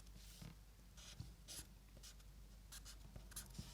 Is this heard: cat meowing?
no